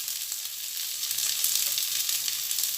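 Endives fry in a little butter in a pan with a steady, bright crackling sizzle that continues unbroken at close range, with no voices.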